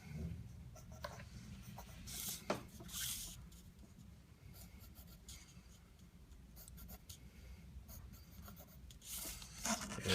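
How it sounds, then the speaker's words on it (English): Lines are drawn by hand, and a faint scratching of the drawing tool comes in short, irregular strokes against a quiet background, with a few sharper ticks scattered among them. "So we can start drawing a few of these characteristics in"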